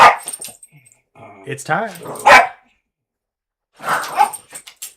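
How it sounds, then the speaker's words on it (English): Several dogs playing and barking close to a microphone, with short yelps and whimpers coming in bursts alongside a person speaking. "So my dogs are playing with each other next to the microphone, and one of the dogs gets upset when the other dogs are having fun."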